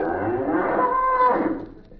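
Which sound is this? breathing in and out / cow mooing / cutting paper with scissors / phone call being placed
cow mooing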